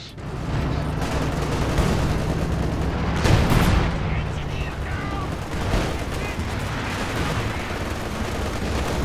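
A Panther tank's main gun booms in the Company of Heroes 2 battle, one heavy blast rising out of a dense, constant wash of distant gunfire and explosions.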